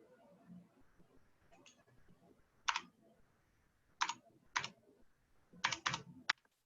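Keys clatter on a computer keyboard in short, sharp bursts of typing separated by quiet gaps, close and fairly crisp over faint room noise.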